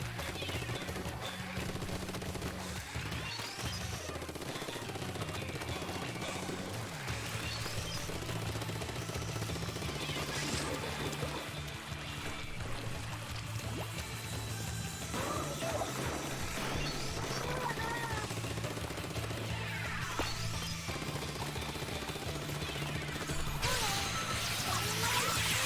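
Rapid, sustained weapon fire in Splatoon 2, a video game, with the trigger held down while walking, forming a dense, continuous barrage of repeated shots over busy game sounds and music, loud throughout.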